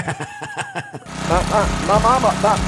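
A lawnmower engine sputters and chugs in an uneven rhythm, then drops under a louder, steadier engine drone with a person speaking over it.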